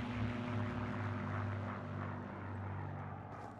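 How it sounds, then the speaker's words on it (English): Propeller planes flying overhead in the Battle of Britain video game 303 Squadron, a steady droning engine roar with low tonal hum, sustained and fairly loud with no talking. "There's some planes flying overhead."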